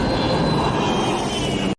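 A large jet airliner coming in to land at Beirut airport, a loud steady engine roar held close and unbroken for the whole stretch before cutting off abruptly.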